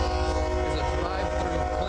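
Horn of a passing train blaring in a long, loud, sustained chord that stays steady and close throughout.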